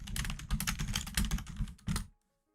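Rapid typing on a computer keyboard, dense bursts of clicking keys at close range, stopping abruptly into silence near the end.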